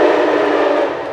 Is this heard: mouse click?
no